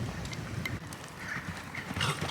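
An eventing horse canters close by, its hooves drumming in a steady three-beat rhythm on the ground, with faint creaks of movement alongside.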